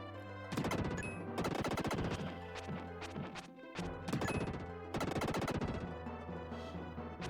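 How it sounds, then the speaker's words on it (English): Enemies explode in the SNES game Illusion of Gaia, a rapid string of loud crunchy blasts and crashes that comes in repeated bursts, with brief gaps, over a steady low game backdrop. "wait for them all explode before I move"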